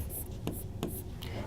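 Pen or marker strokes scratch out an answer during an English lesson, a few quiet rubbing strokes with short sharp taps in a hushed room, and no speech.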